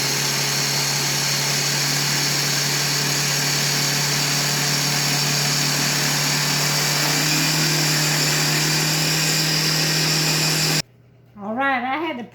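A kitchen blender runs on its highest setting while blending low-carb carrot cake batter, giving a loud, steady motor whine that holds for about ten seconds before cutting off, after which a voice speaks.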